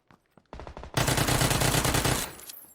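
Automatic gunfire in the PUBG video game: a few sharp single shots, then a short rapid burst and a dense sustained stream of shots that cuts off and trails away, loud and close, with no talk.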